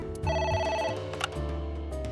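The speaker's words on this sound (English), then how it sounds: "Oh, I got the phone call again." A phone rings in the video game AI: The Somnium Files, a repeating electronic trill layered over the game's background music, moderately loud, with no one speaking.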